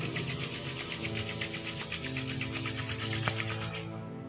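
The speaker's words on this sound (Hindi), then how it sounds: "अपनी हथेलियों को जोर जोर से रगड़ेंगे" Two palms rub together vigorously in a fast, even back-and-forth rhythm, a dry close swishing with regular pulses that stops abruptly near the end.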